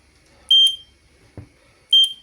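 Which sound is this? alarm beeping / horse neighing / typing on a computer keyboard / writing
alarm beeping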